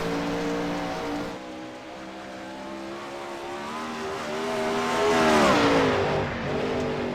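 Video game 410 sprint cars race around the Lernerville track, engines droning and revving continuously at high pitch, rising and falling as cars pass, loud and steady with no gaps.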